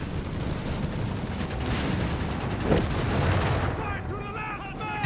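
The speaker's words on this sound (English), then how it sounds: "there you got artillery fire here on the advancing American troops" Artillery fire rumbles through a Company of Heroes 3 battle, with shells landing on advancing American troops in a dense wash of booms and a sharper blast midway, heard under ongoing commentary.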